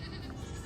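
Baby goats bleat in a brief, faint burst beside the milking of their mothers, set against a low rumbling background.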